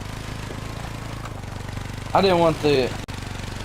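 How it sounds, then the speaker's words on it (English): A lawnmower running outside keeps up a steady, droning engine hum in the background while someone talks briefly over it. "There's a lawnmower outside"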